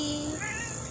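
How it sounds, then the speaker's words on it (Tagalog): A pet cat gives a short, close meow that rises and falls in pitch over about a second, heard clearly in a home. "Yan ang mga pusa, guys."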